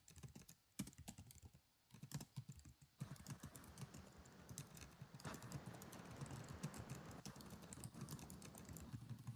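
Computer keyboard typing, a dense run of quick key clicks and taps in the first three seconds that gives way to a steadier wash of keystrokes with ongoing room noise.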